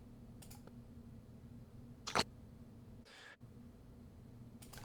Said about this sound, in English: you hear the noises that iZotope thinks are breaths